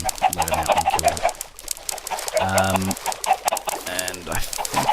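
Minecraft chickens cluck in a video game, with several short bursts of repeated clucks in a loose rhythm over a busy, crowded background.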